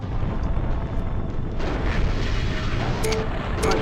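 Weapons fire in the MechCommander video game forms a dense, continuous rumble of blasts and booms, loud and unbroken for the whole stretch, with no talk.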